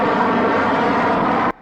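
Propeller airliner roaring steadily on landing in the 1966 film Fantastic Voyage, a loud, sustained engine drone with no break until it cuts off abruptly near the end.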